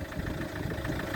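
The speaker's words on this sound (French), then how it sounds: "je vous montre déjà le bruit du moteur de l'ancienne" A car engine idles with a worn timing belt past 120,000 km, a steady close mechanical rumble with a faint rhythmic clatter and no voices.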